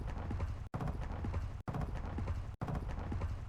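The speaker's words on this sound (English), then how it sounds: "There's the footstep audio." Repeated footstep effects from the game Warzone 2.0, a dense run of hard clattering steps that loops three times with brief silent gaps, close and loud.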